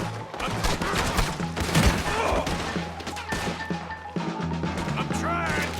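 Dense bursts of gunfire in Red Dead Redemption 2 crack and thud almost nonstop during a firefight around a wagon being pushed, with clashing impacts and game music layered over the shots.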